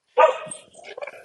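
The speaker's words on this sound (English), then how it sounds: "sorry, dogs are barking" Dogs bark close by in a quick burst, one loud bark followed by a run of shorter yips and barks, with no one speaking.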